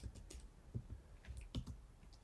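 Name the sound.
typing a command on a computer keyboard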